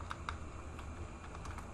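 A computer keyboard tapped in a short burst of separate keystrokes while entering a router OSPF command, close and fairly quiet with no voices.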